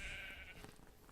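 Sheep bleating in a farming video game, one drawn-out nasal bleat that fades into soft background noise; no talking.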